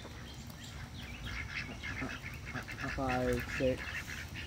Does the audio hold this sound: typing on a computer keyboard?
no